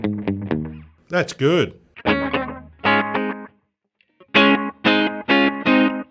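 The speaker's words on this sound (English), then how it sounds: "the little tight slapback is so degraded and grungy" Electric guitar through a Strymon slapback delay set tight, degraded and grungy, playing short distorted phrases with quick repeating echoes; a brief spoken remark interrupts midway.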